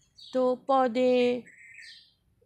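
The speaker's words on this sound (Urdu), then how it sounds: "چڑیا کی آواز آ رہی ہے نا؟ آئی نا؟ کوے کی آواز بھی آ رہی ہے صبح صبح" Sparrows chirping and crows calling in the early morning, with short bird calls heard faintly around a nearby speaking voice.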